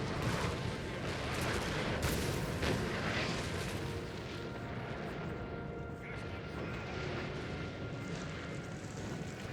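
Artillery fire in Napoleon Total War rumbles as repeated dull booms within a dense, continuous battle din, fairly faint overall, with voices mixed in.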